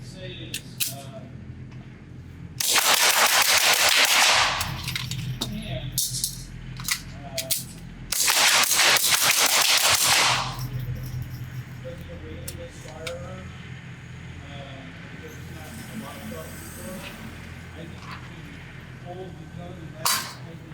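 Rapid fire from a suppressed Ruger 22/45 MkIV-SD pistol at a shooting range: two dense strings of quick, muffled cracks, each lasting a couple of seconds, separated by a pause with lighter ambient noise.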